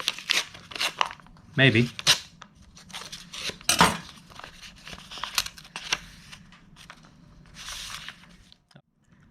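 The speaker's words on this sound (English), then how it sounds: "we'll take Excalibur here, and we'll cut this envelope open." A paper envelope sliced open with a blade at close range: scraping, tearing and crunching strokes in short bursts, with paper rustling and handling noise between them and someone speaking briefly.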